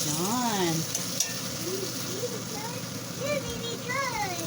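Bistek frying in a pan gives a steady, close sizzle with stirring clatter all through, under a voice speaking.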